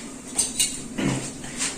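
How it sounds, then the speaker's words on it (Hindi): Metal tongs (chimta) are picked up in a kitchen, giving a few light metallic clinks and scrapes spread over a couple of seconds, close and fairly quiet. "ये जी मैंने चिमटा उठा लिया है ताकि इससे मैं आलू निकाल के इसमें रख लूं।"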